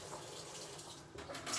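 Filtered water pours steadily into a skillet of browned roux for a cheese ravioli dish, a soft continuous rush at low volume with a brief splash near the end and no talk.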